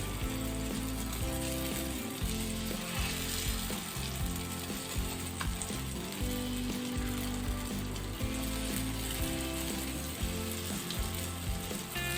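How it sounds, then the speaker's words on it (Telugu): Batter dropped into hot oil in a paniyaram pan fries with a dense, continuous crackling sizzle, loud and close throughout, with no speech. "కొంచెం ఆయిల్ వేడెక్కింది పిండి వేసుకుందాం"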